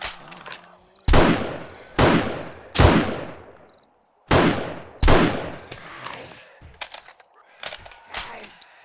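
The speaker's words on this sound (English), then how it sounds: "I'll just shoot you in the butt and put you out your misery." Gunfire against zombies in 7 Days to Die, a string of loud, sharp shots at irregular intervals, each with a long ringing decay, followed by several quicker, fainter shots toward the end.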